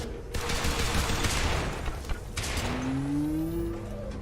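A concussive missile blast in the sci-fi shooter Beacon: a dense, noisy burst with crackling gunfire-like texture and mechanical clatter, followed by a rising whine and short tonal sweeps as the noise dies down.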